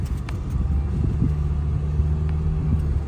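Steady low engine rumble from inside a car moving through crazy-busy traffic in Liberty, with a constant mid-level drone and faint ticking, no talk.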